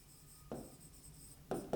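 Pen strokes on paper or a board while a physics derivation is written out, two short scratchy bursts against a quiet background, close and faint.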